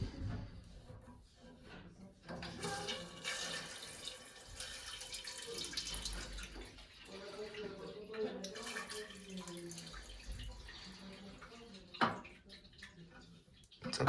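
Water turned back on and flowing through toilet plumbing with a burst float valve, an uneven rushing and trickling close by, with clunks and a sharp knock near the end under faint background voices.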